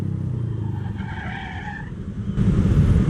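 A Yamaha XMAX scooter's drivetrain gives a thin, strained creak-like whine over the steady engine note while the throttle is applied, then the motor swells louder near the end.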